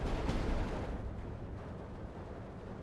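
Artillery fire in the video game Steel Division 2, during a Soviet campaign in Karelia, rolls as a continuous heavy rumble of booming blasts with no distinct gaps.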